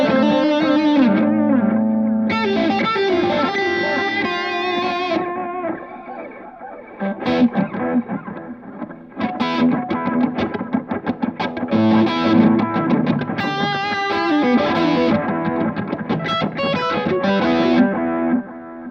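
Electric guitar played through a JAM Pedals Harmonious Monk tremolo, RetroVibe and Delay Llama, with pulsing, swirling modulation and echoing repeats over sustained chords and picked lines, loud and continuous.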